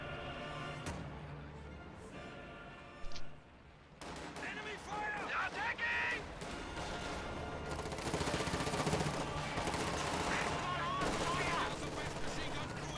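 Machine gun fire in a WWII strategy game, armor-piercing incendiary rounds hitting infantry behind green cover, heard as dense rapid bursts of gunfire among other battle noise, with a commentator talking over it.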